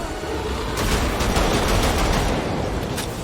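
Rapid machine gun fire in the shooter game Wolfenstein The Old Blood, a dense rattling burst of loud shots running nearly the whole few seconds with sharper cracks in the middle.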